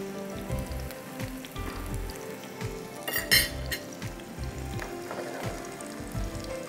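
Food frying in a non-stick pan over medium heat, a steady crackling sizzle with small clinks of a utensil against the pan, heard alone and close.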